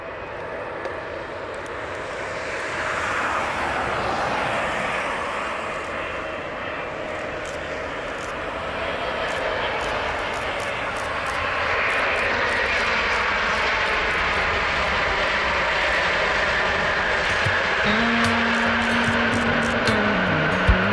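A jet airliner landing on runway 23 produces a loud, steady engine roar that swells and shifts in pitch as the aircraft passes close by, followed by a sustained rumble and a low tonal whine near the end.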